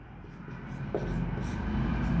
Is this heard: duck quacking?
no